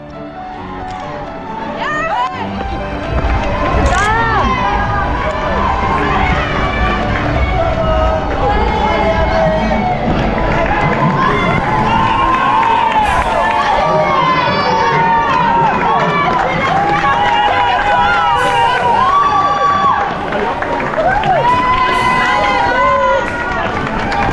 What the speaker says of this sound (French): Je vous laisse avec les frissons et surtout les hurlements de ma sœur